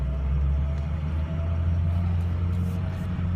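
A 2006 Ford F250 diesel 4x4 pickup pulls away: a steady, loud, close low rumble that holds evenly throughout, with no voices.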